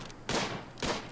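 Two quick gunshots from colonist Victor firing at a boar in RimWorld Alpha 10, each a sharp, moderately loud burst with a brief noisy tail, spaced about half a second apart.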